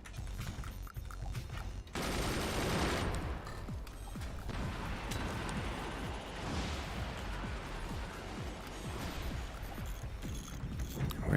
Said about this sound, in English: Where did that machine gun come?